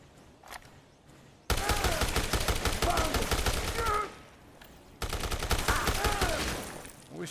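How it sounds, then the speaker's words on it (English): Rapid bursts of gunfire from the Dead Rising Deluxe Remaster video game, loud and dense, in two long volleys with a short pause between them and a brief quieter lull before the first. "I wish you would stop shooting me while I'm shooting you."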